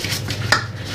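Bowls and a coffee pot being washed by hand with Marseille soap give soft clinks and wet rubbing, with one sharper knock of ceramic near the middle, close and fairly quiet.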